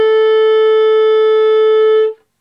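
A clarinet sustains a single high B note for about two seconds, clear and steady with strong overtones, played alone before stopping cleanly.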